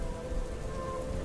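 Steady, dense rain pours down with a constant hiss, and faint low rumbling sits beneath it, set in a stormy night scene with a rowing boat.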